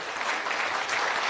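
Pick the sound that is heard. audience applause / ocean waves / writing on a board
audience applause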